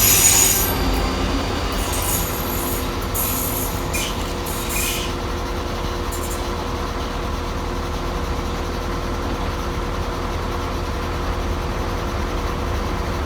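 ScotRail trains departing and arriving at Edinburgh Haymarket station, a continuous rumble of diesel and electric units with wheels squealing and metallic screeches early on, loud and near, no talk.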